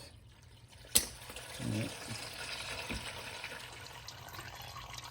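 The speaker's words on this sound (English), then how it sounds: "you can start to drain the oil out here without making a mess" Motor oil drains out of a car's opened drain plug into a drain pan, a click followed by a steady, close liquid pour and trickle; someone briefly speaks over it.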